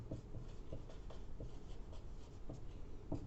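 Pen scratching steadily on paper while a physics definition is written out, a soft rhythmic scraping of short strokes close by, with no voice.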